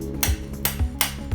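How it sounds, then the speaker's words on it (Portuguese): A chilled coconut is struck with the blunt back of a knife to loosen the flesh from the shell, four sharp hollow knocks at a steady pace, each one close and distinct. "Aí você bate com a parte da faca sem corte para soltar o coco"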